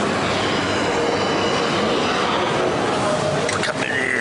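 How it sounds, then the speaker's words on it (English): Tehran metro train arriving, a loud continuous rumble of rolling carriages with wheel squeal rising near the end, heard close from the platform. "We're going on the metro now to get towards the bus station"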